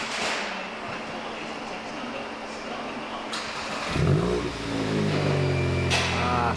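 A VW Golf GTI MK8 fitted with a new Milltek exhaust fires up about two-thirds of the way in, giving a sharp burst of engine noise that settles into a deep, steady idle after a stretch of background hiss.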